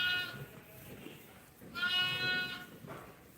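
A flock of sheep at lambing time bleats in two long, wavering calls, the second louder and closer, over a low murmur of farmyard background.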